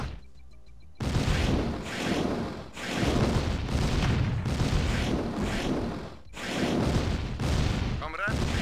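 A naval cruiser in Command & Conquer Red Alert fires its artillery in a continuous roaring barrage of loud booming blasts, pulsing in heavy waves with brief gaps between salvos.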